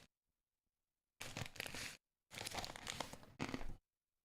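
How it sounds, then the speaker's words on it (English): Someone munches food right up against the microphone, giving three close, crunchy bursts of chewing separated by short silent pauses, with no talking. "sorry if you guys can hear my munching"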